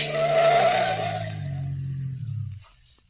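Car tires screech in a long skid as the car swerves off the road after a curve, a loud, sustained squeal with engine roar that fades and stops after about two and a half seconds.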